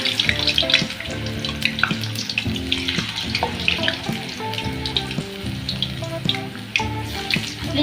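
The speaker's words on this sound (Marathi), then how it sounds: "फ्लेमवर असे हे तळून घेतले आहे।" Green banana chips deep frying in hot oil over a gas flame, a dense, continuous sizzle and bubbling crackle that stays loud and steady throughout, with no voices.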